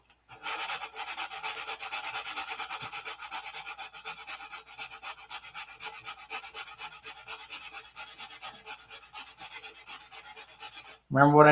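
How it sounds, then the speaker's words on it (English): Wet sanding with 600 grit sandpaper along a P-47 aircraft's leading edge, a steady rhythmic rasp of quick back-and-forth strokes lasting about ten seconds at moderate volume, ending in a loud abrupt clatter. "We'll just sand the whole leading edge wet."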